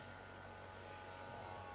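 Insects in a field in Aceh, Sumatra, with grasshoppers present, giving a continuous high, steady shrill drone that stays unchanged throughout over a low background hum, with no voices.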